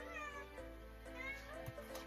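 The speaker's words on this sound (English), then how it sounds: "Cat likes to be loud." A pet cat meows loudly several times in a room, with faint background hum and no talking.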